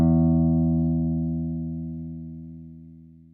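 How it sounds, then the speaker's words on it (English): A single open guitar string plucked once, ringing as a clear sustained tone with strong harmonics that slowly decays over a few seconds, alone and close. "plucking an open string on a guitar"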